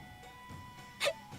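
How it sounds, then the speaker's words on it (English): A single short, sharp hiccup from a Tales of Xillia game character, heard once near the end of a brief stretch of quiet background. "acute hiccup disorder. It's totally flaring up."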